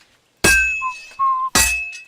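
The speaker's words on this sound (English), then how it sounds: "Now take the hammer and try hitting it a few times." A hammer strikes a sword on an anvil during blacksmithing in Kingdom Come Deliverance 2: two sharp, loud metallic clangs about a second apart, each ringing briefly, with faint chiming tones in between and no talking.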